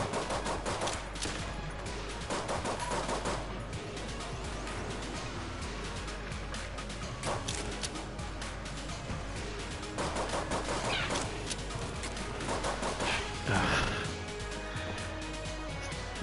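Rapid gunfire from a newly found gun in the video game Enter the Gungeon, dense bursts of repeated shots running almost continuously over busy game sounds, with a few heavier blasts standing out.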